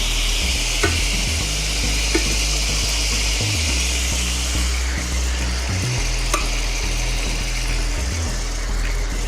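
Stock hits a hot pan of saltimbocca alla romana with sage, setting off a loud, continuous sizzle and bubbling that runs throughout over a low, uneven hum, with a few sharp clicks.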